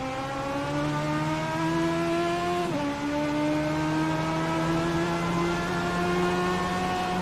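Race car engines in the iRacing sim at Oran Park hold a steady, loud harmonic drone, with one brief dip around a gearshift before the pitch climbs again, running continuously with no talk.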